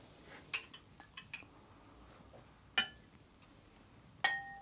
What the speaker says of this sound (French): On pose la cuillère